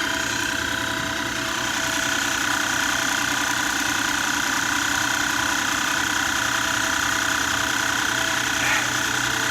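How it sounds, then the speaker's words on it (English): A portable air compressor runs outdoors in the field, giving a steady, loud, continuous mechanical drone with a fine rattling vibration that holds unchanged throughout, with no one speaking. "There you go, that's an air compressor for you"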